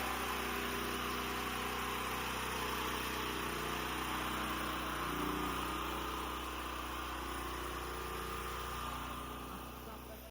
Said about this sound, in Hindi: अभी जनरेटर हमने नया मंगा दिया, पहले हमारा जनरेटर पुराना था, नया वाला जनरेटर आ गया।